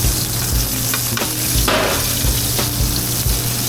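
Fish pan-searing in a hot pan gives a loud, constant sizzle and crackle, with a few soft scraping or stirring knocks over it and no talking.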